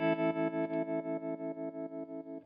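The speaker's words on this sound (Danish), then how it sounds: "Det er jo en tremolo, kan man sige, men den har sin helt egen ting." An electric guitar chord is played through a classic Fender amplifier's tremolo/vibrato effect, its volume pulsing in a steady fast rhythm of about six throbs per second, close and alone as it slowly fades.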